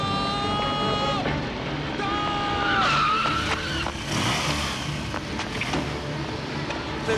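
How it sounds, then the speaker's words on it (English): A car's tires squeal in a long skid as it brakes hard to a stop outside Minster Cathedral, the screech loud and close over a continuous rumble of engine and commotion. "a man has just stopped the Queen's car"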